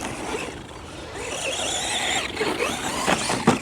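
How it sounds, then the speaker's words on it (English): A small steering servo on an FTX Zorro RC trophy truck whines briefly as it moves, a thin, slightly sluggish electric buzz, followed by a few sharp clicks and rattles near the end. "So that's your servo, like I say, a little bit slow."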